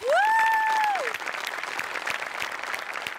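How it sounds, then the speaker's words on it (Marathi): Loud applause from an audience fills the whole clip, a dense steady patter of clapping, with a bright rising-and-falling electronic tone sweeping over the first second. "जोरदार टाळ्या"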